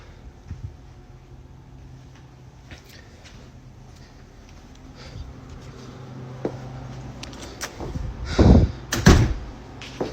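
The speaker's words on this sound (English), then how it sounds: "What the lens captures is a series of doors slamming shut with significant force" Doors slamming shut forcefully in a cold room: soft scattered knocks give way to two heavy, loud bangs near the end, with clattering after them.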